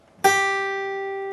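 A single plucked guitar note on the B string at the 8th fret rings out clearly after a brief quiet lead-in, with a sharp attack and a long, evenly decaying sustain rich in overtones.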